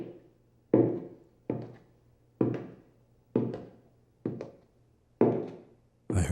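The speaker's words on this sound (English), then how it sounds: "I heard footsteps in the other room" Footsteps in another room, six slow heavy thuds evenly spaced like muffled steps or knocks heard through a wall, each ringing briefly before silence, in the visual novel Everlasting Summer.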